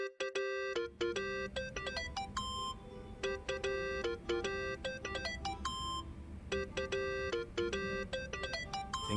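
Mobile phone ringing in the Yakuza: Like a Dragon video game, a repeating electronic melody of bright tonal beeps in rhythmic bursts, fairly quiet, alone with a low background hum.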